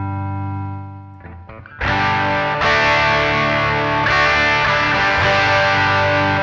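A sustained note gives way to loud, crunchy chords on an electric guitar run through an amp emulation with an overdrive pedal, high gain and reverb, with each strum ringing out thick and saturated.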